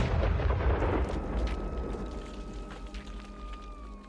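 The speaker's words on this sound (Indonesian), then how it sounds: "Bunyi ledakan keras tiba-tiba membuat Lasri dan Samsul terperanjat" A loud, deep explosion booms at the start, then rumbles and fades away, leaving a faint lingering tone.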